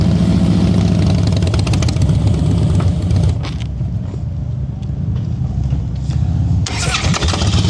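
Motorcycle engine held under throttle during slow-speed riding practice, a loud, close, steady mid-pitched rumble that dips briefly before rising again.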